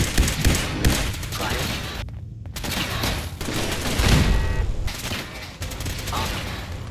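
Automatic laser pistol fire in the video game Fallout 4: dense, rapid bursts of shots that run almost continuously, broken by a brief gap, loud and busy throughout.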